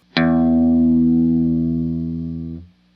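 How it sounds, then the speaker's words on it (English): A single low electric guitar note, the open low E string opening a song, rings out with a sharp attack and sustains for about two and a half seconds before being cut off, slightly effected. "the first note of this song is the low E string open"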